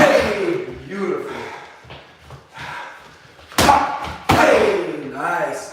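Flying knee strikes in a mixed martial arts self-defense drill land on a pad as two sharp, loud thuds, with someone talking and coaching over them.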